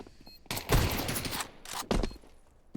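Bursts of gunfire from a Counter-Strike 2 tournament match, a loud sustained volley followed by a shorter second burst and softer clatter, with no talking.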